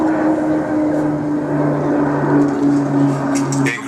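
A Grumman Turbo Firecat with a 1,220 shaft horsepower PT6 turboprop engine drones steadily and loudly at an air festival, holding a constant tonal engine whine throughout, with faint crowd or wind noise.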